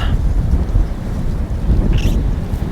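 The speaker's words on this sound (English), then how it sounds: "This wind is horrendous now" Strong wind roars across the open bank of Barston Lakes during a fishing match, loud continuous low buffeting on the microphone with gusty rumbling throughout.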